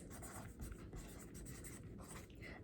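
Pen scratching across paper as a teacher writes notes during a children's author study lesson, with steady close strokes and short pauses and no talking.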